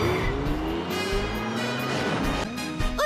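A car in a Shin Chan cartoon drives past loudly with a whining, rising engine tone and a tyre-squeal edge over busy background music.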